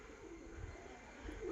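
A flock of pigeons gathering to feed coos softly and steadily, a low murmur heard from a short distance against faint background noise.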